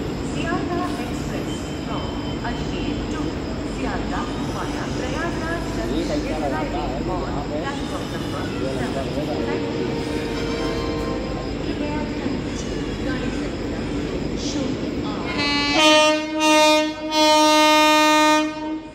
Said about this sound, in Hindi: ट्रेन आने वाली है